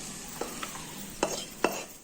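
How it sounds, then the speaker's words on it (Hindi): Fried vegetables for spicy potato nuggets are tipped from a pan into a big vessel, a steady soft sizzle broken by a few sharp scraping clatters of metal on metal. "अब इसे चूल्हे से उतार के हम एक बड़े बर्तन में इसे पोर कर देंगे।"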